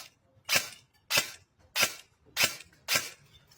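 An S&T Sportsline M4 RIS airsoft AEG rifle with a G3 micro switch gearbox fires five sharp single shots at an even rhythm outdoors on a field, each a crisp crack with short quiet gaps between.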